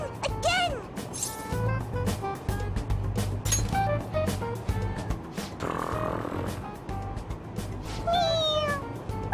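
A toy cat meows when its head is pressed, giving several short electronic meows over the noise of a moving train, with people talking and laughing close by.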